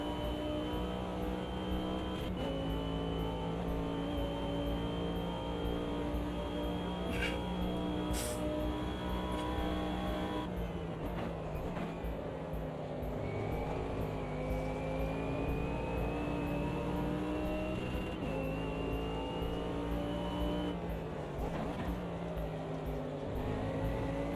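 BMW and Porsche race cars on a start-finish straight in a racing game, engines droning steadily at high revs with rising pitch through long upper gears, continuous and loud with occasional shifts.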